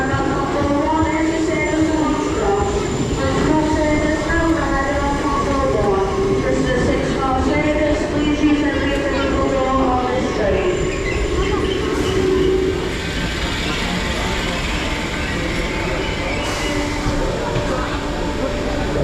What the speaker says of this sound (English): arriving in now is our service to Hunts Cross.